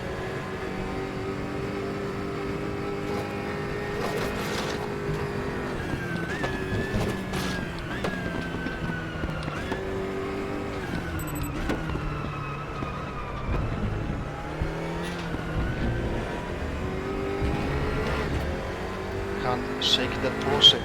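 Engines of GT3 race cars roar steadily in a racing video game, with a Porsche close behind; pitch lines rise and fall through gear changes while game music or speech sits underneath throughout.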